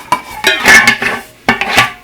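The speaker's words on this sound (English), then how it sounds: "all I do is put in 3 scoops of the germination seed" Germination seed scooped and poured into a small tub, giving a few short rattling, clinking bursts in a quick rhythm, close up and fairly loud with brief pauses between pours.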